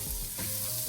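Butter sizzling and frying in a hot pan for a one-pan bacon, potato and sausage frittata, a steady close crackling hiss with no talk.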